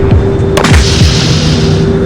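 A shotgun projectile fired into a target to simulate an asteroid impact gives a sharp boom with short follow-up bursts and a steady tone over a constant noisy background. No voices are heard.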